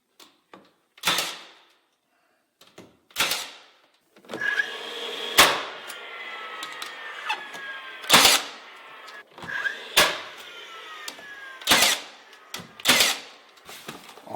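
Dewalt 18 gauge brad nailer firing brads into wood trim, a series of sharp, loud pneumatic snaps spaced irregularly a second or two apart, with faint handling and shuffling noise between shots.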